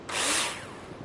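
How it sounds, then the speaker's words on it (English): A power drill in the Builder Simulator video game drives a screw into a hinge, giving a short loud whirring burst that quickly fades to a quieter tail, with no talking. "Choose a drill and insert the necessary screws."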